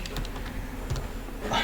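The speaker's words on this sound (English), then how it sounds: "I'm a little bit fast in my typing" Fast typing on a computer keyboard while coding, a quick run of close, crisp key clicks in bursts with brief pauses.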